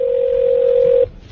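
Steady telephone dial tone hums alone for about a second, then cuts off abruptly as a prank phone call begins.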